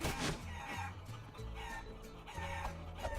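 A chicken clucks in the video game Guacamelee Super Turbo Championship Edition, sharp squawks rising over steady game music for about three seconds.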